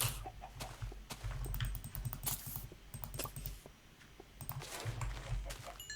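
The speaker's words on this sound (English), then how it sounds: "there's a chicken" Chicken clucking inside a blocky survival video game, repeated short clucks against a busy backdrop of fast keyboard typing and clicking, fairly quiet and low in the mix.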